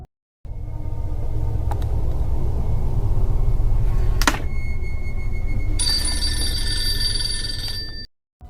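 An old portable phone built into a luggage bag rings with a loud, steady electronic warble, joined partway through by a higher, sharper ringing tone before both stop abruptly.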